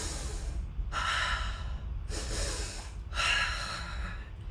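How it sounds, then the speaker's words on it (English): Three slow, deep breaths drawn and released through the nose and mouth, each a long airy rush with pauses between, close and fairly loud with no talking. "You might want to begin with a few deep, conscious breaths. A double inhale and double exhale can be very relaxing."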